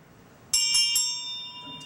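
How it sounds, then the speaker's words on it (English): An antique family hand bell, once used to call people to meals on a farm and to summon pupils to a one-room school, rings three bright strikes in quick succession and then leaves a long shimmering ring that slowly decays. "the bell was in my grandmother Mudge's family, and they used it to call folks for meals on the farm"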